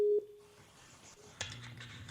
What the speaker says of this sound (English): It's finally ringing. It took a while to ring